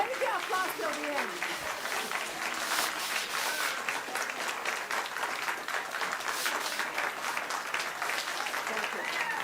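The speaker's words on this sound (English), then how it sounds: "Save the applause till the end." An audience applauds with a dense, steady wash of clapping that carries at an even level from start to finish, with a voice faintly audible at the start.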